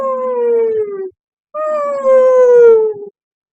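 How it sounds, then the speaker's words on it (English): A whale sings two long, loud moaning calls, each gliding slowly downward in pitch, separated by a short silence and heard alone. "you just might hear a distant song, a whale who hopes you'll sing along"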